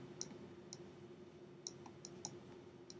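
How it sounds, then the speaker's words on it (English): Computer mouse clicks on a desk, about seven sharp, quiet clicks spaced irregularly over a steady low room hum, with no voices. "I'm gonna click forward."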